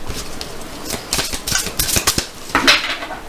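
Oracle cards being shuffled by hand during a card reading, a quick run of crisp papery riffles and flicks, close and fairly loud, with no voice.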